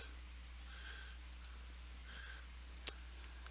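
A few faint, sharp computer mouse clicks spaced over a few seconds over a low steady hum.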